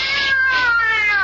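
A cat in a radio horror drama lets out one long, drawn-out wailing meow, close and loud, with no talk over it.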